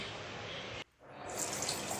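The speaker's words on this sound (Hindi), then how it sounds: "तो मैं अभी अपना फेस वॉश कर लेती हूँ" A tap runs at a wash basin for face washing, a steady close hiss that cuts out briefly and then resumes with brighter splashing.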